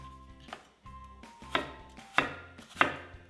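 A knife chops apples into small bite-sized pieces on a board, giving about five crisp, separate cuts at uneven intervals with short scraping sounds between them, close up and without talk.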